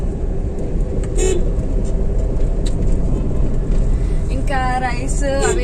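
A car on a road trip from Kurnool to Hyderabad hums steadily from inside the cabin, with a loud continuous road and engine drone. Brief horn toots sound outside, and voices speak near the end.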